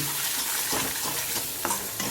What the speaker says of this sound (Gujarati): સરસ રીતે મિક્સ કરી લઈએ.